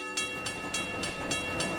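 A train rolls past in a VRChat game world, loud and close, with a steady roar and a regular clickety-clack beat of wheels over rail joints.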